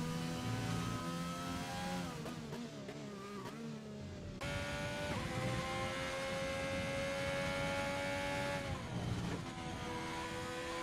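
A Nissan GTR race car engine in a racing game revs and shifts gears continuously up close, with its pitch climbing and dropping through several gear changes.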